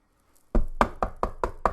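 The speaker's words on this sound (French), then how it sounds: "Elle frappe à la porte." Knuckles rap on a door six times in a quick, even series of firm, close knocks after a moment of silence.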